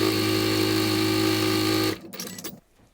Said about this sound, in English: we're going to stitch a 1/4 inch right down